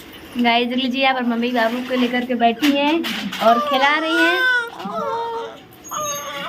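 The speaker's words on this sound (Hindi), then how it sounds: "क्या करे मेरे बच्चा रो रहा है।" A village baby wails and whimpers close by in sustained rising and falling cries while someone talks over it.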